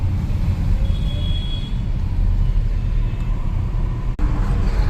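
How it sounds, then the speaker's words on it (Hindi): Car driving along Delhi roads at night with little traffic, a steady low engine and road rumble continuing from inside the vehicle, with a brief dropout near the end. "रात के टाइम पे तो ऐसे चलती है गाड़ी बिना ट्रैफिक"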